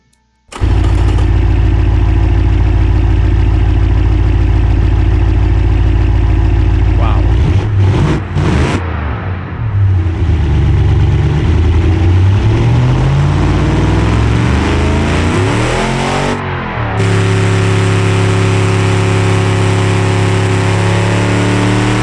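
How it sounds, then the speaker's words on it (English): A game car engine from BeamNG, built in Automation with a race intake manifold, revs hard with loud sustained harmonics, drops briefly, then climbs and falls through the rev range and settles into a steady high drone. "That engine is working brutally."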